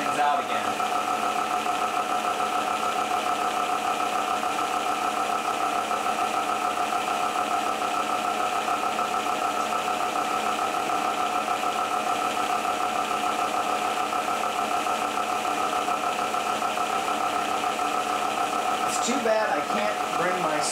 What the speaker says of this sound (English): which is going to change the speed of those spinning discs